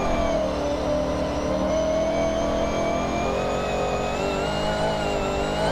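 A fully built, twin-turbo drift car in Forza Horizon 6, slammed on full suspension, holds a loud, steady high rev that climbs slowly with no break.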